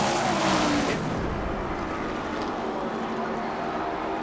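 NASCAR stock cars racing on a road course, a loud engine roar that swells as a car passes close early on, then a steady fainter drone of motors at speed.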